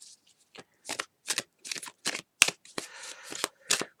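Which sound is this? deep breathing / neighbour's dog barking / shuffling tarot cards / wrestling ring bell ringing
shuffling tarot cards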